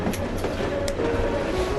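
A train rolls along the rails with a steady rumble and a faint rhythmic clatter, continuous and fairly loud throughout.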